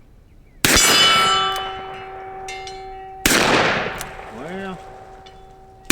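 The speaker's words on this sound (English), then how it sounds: "Let's shoot some more moderate Magnums here" Two loud .44 Magnum shots from a Ruger Super Blackhawk revolver, each followed by a ringing metallic clang from a struck steel target, with a long decaying tone and a brief spoken word between them.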